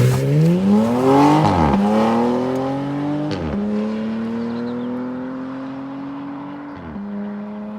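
A 462-horsepower Porsche Panamera accelerates hard under boost. The loud engine note climbs steadily through several gears, with brief dips at each shift, and the roar rises again after every change.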